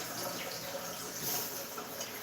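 Tap water runs steadily into a kitchen sink while asparagus spears are rinsed under it, a continuous even splashing hiss with no talk.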